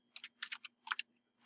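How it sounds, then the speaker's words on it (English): Quick bursts of keystrokes on a computer keyboard, close and crisp, come in small clusters with short pauses between them in a quiet room. "on your keyboard, just type in the greater than sign and then the last name"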